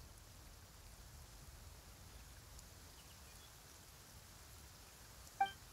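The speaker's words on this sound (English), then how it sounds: "Why is it raining all of a sudden?" Steady rain falls in the video game Genshin Impact, a soft even hiss of drops on surfaces throughout, with a brief sharp chime-like blip near the end and no talking.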